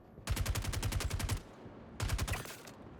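Two loud bursts of rapid automatic gunfire from a weapon in the video game Star Citizen, a long burst followed by a shorter one after a brief pause, close and with no talk over them.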